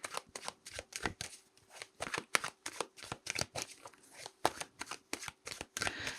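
A deck of tarot cards is shuffled in rapid, crisp riffles, a fast run of sharp flicks close by that goes on for several seconds, with no talking.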